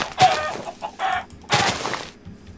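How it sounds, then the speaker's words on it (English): Three short bursts of clucking from a Minecraft chicken, loud and close, separated by brief quiet gaps. "Chicken should be easy enough to kill."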